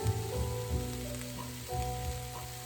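Kale for egg rolls sizzles steadily in a hot pan, a close, continuous crackle with low hissing and no voices over it.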